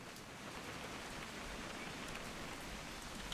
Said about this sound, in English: That rain's nice.